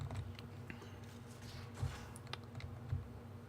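Computer keyboard keys clack in a scattered, irregular pattern of soft taps and a few louder presses while playing Mass Effect Andromeda, close and fairly faint over a low background hum.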